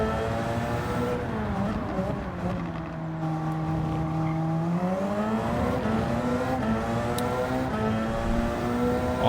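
A Porsche race car in Gran Turismo 7 during Le Mans 24H qualifying, engine droning steadily with rising and falling pitch through gear changes and corners, loud and continuous.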